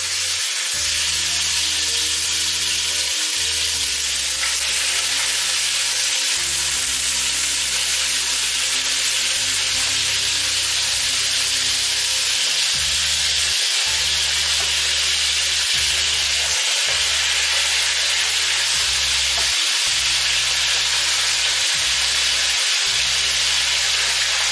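Meat is dropped into smoking-hot oil in a pan and fries with a steady, dense sizzle and hiss that carries on evenly for the whole stretch, close and fairly loud, with no talking.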